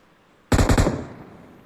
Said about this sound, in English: Covering fire is coming in from AAHDS.